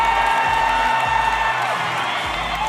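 Basketball arena crowd cheering and clapping in a hyped roar, a dense wash of voices and applause, loud and continuous for the whole stretch.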